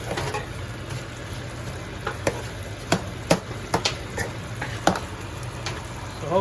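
Food sizzling in a pan in a home kitchen while a wife cooks, with soft steady frying under scattered sharp clicks and utensil taps, close and fairly quiet.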